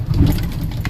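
A 1986 four-wheel-drive Chevy pickup engine runs just after a cold start, a steady low rumbling idle heard up close with no talk.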